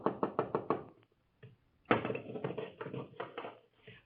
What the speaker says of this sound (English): a hurried knocking sounds at the door of the house of Gamaliel